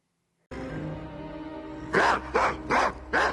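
Dog barks in a television drama scene, four sharp loud barks in a quick row following a sustained background of music and ambience.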